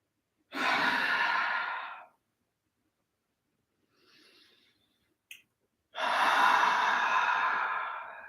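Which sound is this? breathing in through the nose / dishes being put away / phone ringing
breathing in through the nose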